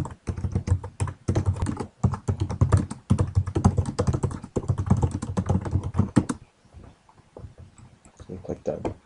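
Rapid, uneven typing on a computer keyboard, close and crisp, keys clattering in bursts for about six seconds before trailing off into a few scattered taps.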